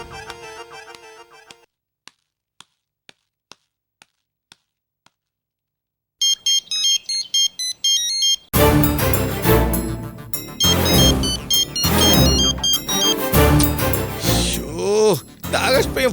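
A phone rings out unanswered on a call to Akash, short tonal ring bursts first, then a run of sparse beeps, then a louder electronic ring blending into dramatic music from a Tamil serial scene.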